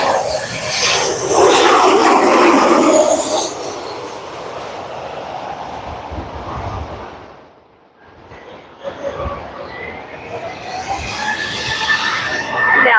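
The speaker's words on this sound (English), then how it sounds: "Now the Avianca's powering up and heading out of here." Avianca jet airliner powering up for takeoff at LAX, a loud broad roar that swells early, dips briefly mid-way, then builds again with rising whine, steady and close with no talk.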